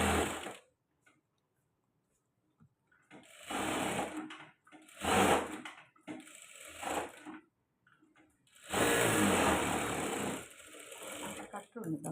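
Sewing machine stitching lining onto a padded blouse, running in several separate bursts of rapid mechanical whirring with quiet pauses in between.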